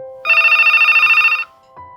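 A telephone rings in a single trilling electronic burst lasting about a second, loud and close, with faint tones before and after it and no talk.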